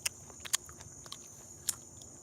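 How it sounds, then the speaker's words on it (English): Crisp bites and chewing on the firm skin of a cambuca fruit, several sharp crunches spaced irregularly, close to the mouth and without talk. "crunch on the skin."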